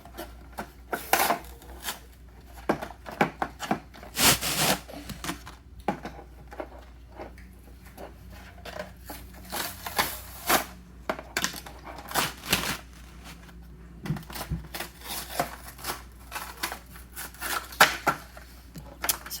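A taped cardboard box holding a Jurassic World Dino Rivals Mononykus toy is pulled open in irregular bursts of close rubbing, crinkling and tearing, with scattered quiet pauses between the handling noises.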